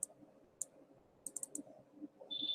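Computer mouse clicks come sharp and close in a quiet room: a single click, another, then a quick burst of three or four, followed by a faint high whine.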